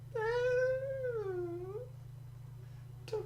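A cat in the Mystic Messenger game lets out a single long, drawn-out meow that rises and falls over a low steady hum, followed by a short click.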